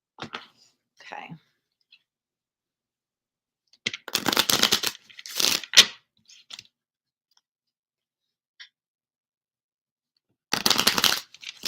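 Oracle cards shuffled by hand during a live reading, a few short papery bursts of riffling and sliding separated by quiet pauses, close and fairly soft.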